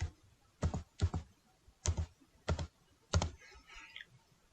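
Typing on a computer keyboard: six quick clusters of crisp key clicks, close and clear over a quiet background.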